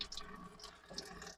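Water runs from a camper van kitchen tap in a thin, steady jet, a faint continuous hiss with light splashing that cuts off abruptly at the end.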